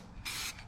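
Spray gun coating a car with green paint gives two short hissing bursts, close and fairly loud, with a brief pause between them.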